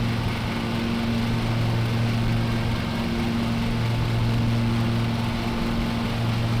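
A riding lawn mower engine in Lawn Mowing Simulator runs at a steady idle-like drone, a low even hum with a constant tone throughout, alone with no talk.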